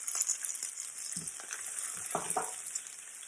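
Green chilli and ginger sautéing in hot oil with chana dal and urad dal for lemon rice, a steady close sizzle with a few stirring scrapes and no talk.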